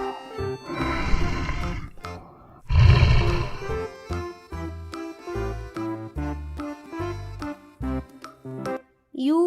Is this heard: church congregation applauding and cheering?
no